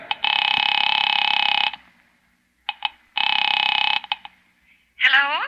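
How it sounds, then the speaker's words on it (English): A telephone rings on the line after a number is dialed, two long electronic ring bursts separated by a pause, clear and close, followed by a brief higher warbling tone at the end. "Picking it up quietly, I dialed my daughter's number, Alec Bartlett's wife."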